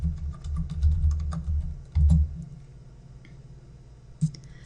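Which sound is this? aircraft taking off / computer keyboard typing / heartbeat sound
computer keyboard typing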